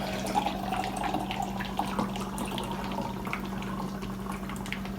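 Modern Times Black House nitro beer hard-poured from a can into a mug, a steady close rushing splash that runs unbroken under a constant low hum.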